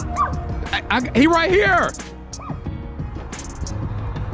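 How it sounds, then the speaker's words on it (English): A small dog barks and yips in quick excited bursts close by, with someone talking over and around it outdoors in a park. "is this your little dog right here?"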